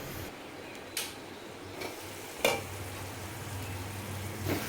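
Methi chana dal curry simmering in a covered pan on a stove, a steady low bubbling sizzle broken by a few faint ticks and clicks, with no voices.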